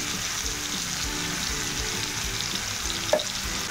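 Raw banana slices with salt fry in a pan, giving a steady close sizzle with occasional soft stirring scrapes and one brief clink near the end, no voices.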